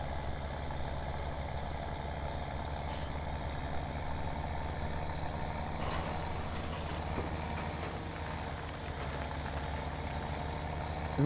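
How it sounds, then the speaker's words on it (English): A tractor engine labours in Farming Simulator 17, a continuous low, heavy rumble that stays steady and loud throughout with a faint hiss over it, and no talking. "Oh buddy, this tractor is not liking this."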